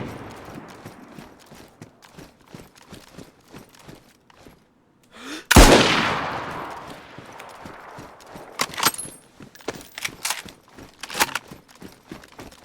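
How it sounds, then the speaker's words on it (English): Loud close Mosin bolt-action rifle shot in a survival game, a single sharp blast with a long decaying tail, preceded and followed by rapid clip-clopping footsteps and a few later sharper cracks. "That's the fucking Mosin."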